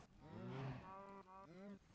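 Cattle in a Minecraft cow farm moo in several drawn-out calls, fairly close and clear, with no talking over them.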